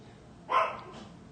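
A single short dog bark, fairly close and a little muffled, rings out alone against a quiet background.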